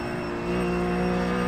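A race car in the iRacing sim, a RUF GTC at Lime Rock, runs through dirt. The engine drones steadily and close, holding a dense, even tone that rises slightly in strength partway through, with no talk over it.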